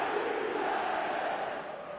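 Stadium crowd in the eFootball video game calling out in a steady, dense roar, loud and continuous throughout with a slight fade toward the end.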